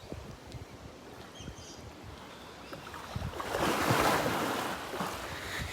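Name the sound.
heavy animal splashing as it throws its body around in water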